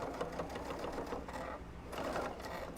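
A sewing machine stitching a puff quilt runs in quick mechanical bursts, its rapid needle clatter easing briefly midway before picking up again; close and steady, with no speech.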